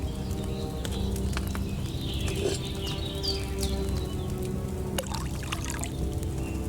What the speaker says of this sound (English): So, what did you pour in there? Wine, of course.